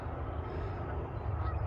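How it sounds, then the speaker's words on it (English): Several cranes calling in the open wild among plants and bird nests, low honking cries steady across the short stretch against a busy outdoor background, no speech. "Here goes some cranes."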